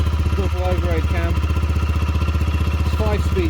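A Neco NC50 50cc geared motorbike with a double overhead cam engine idling steadily after warm-up, a loud, even close-range putter throughout, with brief voice-like squeaks over it.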